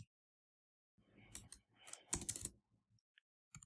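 Quick bursts of key presses on a computer keyboard as a short word is typed, close and quiet, in uneven clusters with brief pauses and a last tap at the end.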